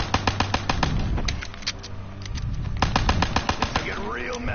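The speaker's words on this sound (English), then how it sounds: "get your pistol out and start shooting" Rapid gunfire from a pistol in Call of Duty Zombies on the Der Eisendrache map, with quick bursts of sharp, loud shots, a short pause, then more fast shots over game noise.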